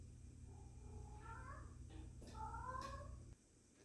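A house cat meows several times, drawn-out and fairly close, in a quiet room with a low steady hum underneath.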